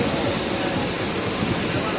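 A large aircraft engine idles slowly on a parked plane at the Singapore Airshow 2026 static display, giving a steady, loud broadband roar with low rumble throughout, mixed with crowd noise and nearby voices.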